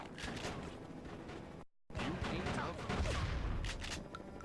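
Gunshots in the GameCube video game Die Hard: Vendetta pop in a scattered series of sharp blasts amid noisy game action, with a brief dropout partway through.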